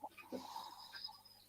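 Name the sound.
Omega snoring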